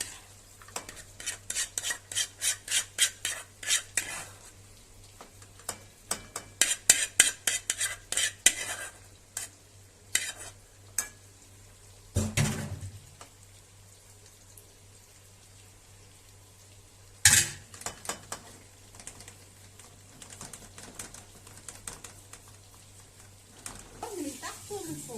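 Metal utensils clatter and scrape busily against a tray greased with a little ghee, in bursts of rapid clinks with a few louder knocks, heard close in a home kitchen while people talk quietly in the background.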